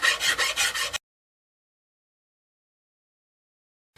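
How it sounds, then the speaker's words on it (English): Freehand rubbing and rasping while rounding off a glued guitar fretboard, about five quick rhythmic strokes in the first second, then silence. "now we just need to round it off down to the fretboard"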